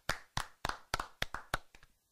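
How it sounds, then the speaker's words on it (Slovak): At a talk show prize draw, people clap in a steady even rhythm, about eight quiet distinct claps over two seconds, with no talking. "Chalani, zatleskame."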